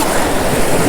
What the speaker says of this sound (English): when these waves wash through, you know, you get all this white water